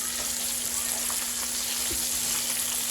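Hot sausage frying in a pan, a steady close hiss and crackle of sizzling fat with small pops, continuous and alone.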